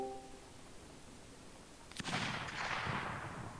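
A single rifle shot fired at a moose in a hunting video game, one sharp near crack followed by a long rolling echo that trails off over about a second and a half.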